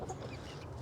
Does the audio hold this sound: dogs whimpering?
no